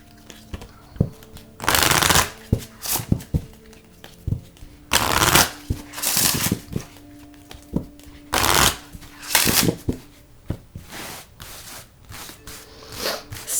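Tarot-style surrender cards are shuffled in several loud, close bursts of riffling and flapping, separated by short pauses with soft handling taps and faint background tones.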